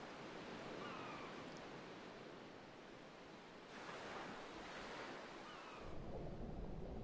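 Steady rushing surf and churning ocean water with wind noise, as in a Final Fantasy X HD Remaster cutscene where a character lands in the sea; continuous and fairly loud, swelling near the end, no voices.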